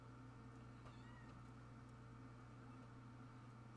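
A cat meows a couple of times, faint and somewhat distant, over a steady low hum and background noise outdoors near garden beds.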